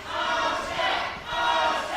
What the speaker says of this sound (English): The crowd chanting for Alex Ocean, not Cha-Cha Charlie